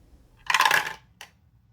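Dice clatter as they are rolled onto a surface, one dense rattling burst lasting about half a second followed by a brief single click as they settle, close and fairly loud.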